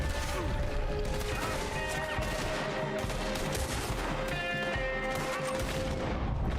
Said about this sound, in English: Now I just gotta be careful and make my shots all count.